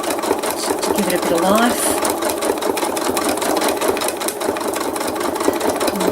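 A sewing machine runs continuously stitching thread art onto fabric, a fast steady mechanical chatter close up, while a person talks over it.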